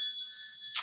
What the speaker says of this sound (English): Let's call on spirit with a little bit of wind chime time.